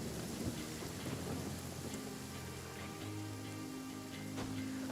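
Thunder rumbles over steady heavy rain in a Genshin Impact storm, a continuous loud downpour with deep rolling thunder swelling throughout and no speech.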